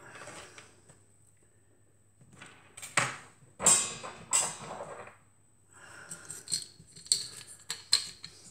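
Material is cut by hand for a small traditional lighthouse model. Sparse, close snips and scraping cuts come in short bursts, separated by quiet pauses.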